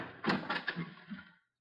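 A drawer sliding shut in a radio drama scene: a short run of wooden scraping knocks and bumps building to a closing thud, fairly close, then silence.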